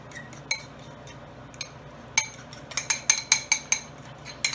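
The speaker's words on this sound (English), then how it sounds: "Now we'll kind of mix all this together." Sous vide pulled pork is stirred together in a dish with metal utensils, producing sparse clinks, then a quicker run of sharp scraping taps against the dish near the end.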